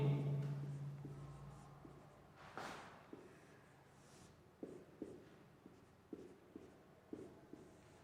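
Marker or chalk strokes on a classroom board during a chemistry lesson, a series of short, sharp scratchy taps spaced irregularly, fairly close and moderately loud with no talking.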